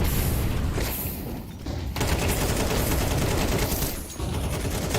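Grenade and flashbang blasts from a competitive tactical shooter match, a dense run of loud explosive bursts and rattling fire with two brief dips before the barrage resumes.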